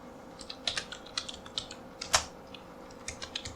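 Java code being typed on a computer keyboard: irregular bursts of close, crisp key clicks with brief pauses and one sharper clack, no voices.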